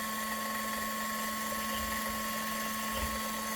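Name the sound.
Lyman Case Trimmer Xpress trimming 300 Blackout brass cases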